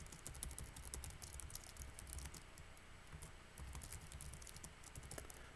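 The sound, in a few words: typing code on a computer keyboard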